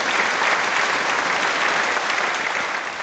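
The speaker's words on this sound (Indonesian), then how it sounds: "Sekarang mari kita berikan tepuk tangan untuk Bapak Chen naik ke panggung." An audience applauds a man walking up onto a stage, a dense, steady wash of many hands clapping at even loudness throughout, with no talk over it.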